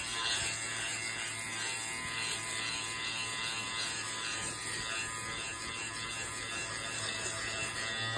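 A small battery-powered lint remover from TEMU runs continuously over clothing, shaving pills off the fabric with a steady high-pitched motor whine and faint scratchy cutting, close and alone with no talk.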